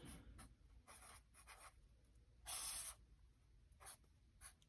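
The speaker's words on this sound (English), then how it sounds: "I'll write it out for you" A pen scratching across a card, close and quiet, in short bursts of scribbling with brief pauses between strokes and one longer, brighter stroke partway through.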